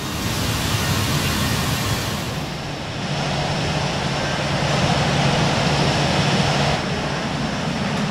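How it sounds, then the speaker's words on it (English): Airplane takeoff in the video game Airport CEO, a broad, steady jet roar with a hissing whoosh that briefly dips, then swells again and holds loud for several seconds. "I like that takeoff sound though"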